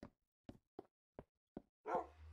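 A dog in the video game Minecraft gives five short, evenly spaced barks that sound close and clear against silence, followed by a brief burst of a different, louder sound.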